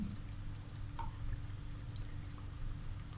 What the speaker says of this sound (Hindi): अब हम लास्ट में इसमें डालते हैं क्रीम